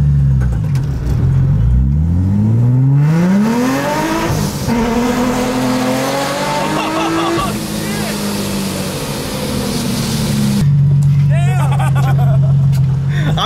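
Car engine revving hard and climbing in pitch under acceleration after second gear kicks out, falling and rising again, loud and close, with people talking and exclaiming over it.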